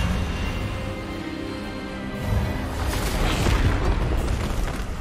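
Expelliarmus spell cast in Hogwarts Legacy, a booming magical burst that swells halfway through over a low rumbling backdrop, loud and sustained.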